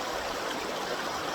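River water flows in a steady, dense rush, a constant close wash with no pauses and no voices.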